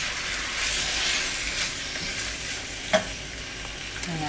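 Spiced cooked meat and onions sizzling in a hot pan while a turner scoops and stirs them, a steady close frying hiss with a few scraping clicks and a light knock.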